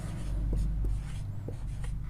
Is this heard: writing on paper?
yes